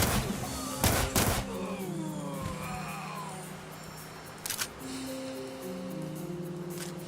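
Rapid bursts of double Uzi fire in the video game TimeSplitters Rewind, short loud clusters of shots near the start and again around the middle, over a steady game-music bed with no talk.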